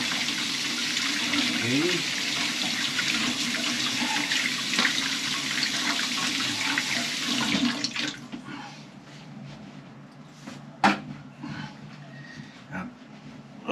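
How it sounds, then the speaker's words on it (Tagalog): Hands being washed under running tap water, a steady rushing stream that dominates for several seconds before thinning into scattered drips and splashes, with a voice speaking briefly nearby. "Hugas muna tayong kamay."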